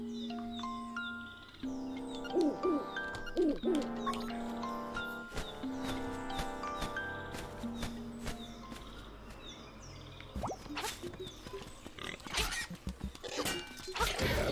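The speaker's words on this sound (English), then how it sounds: "And here comes that bird and that nostalgic music again." A bird calls in the video game Link's Awakening over nostalgic in-game music, with short chirping calls and a melodic tune. Several bright chirps and tonal notes recur across the clip.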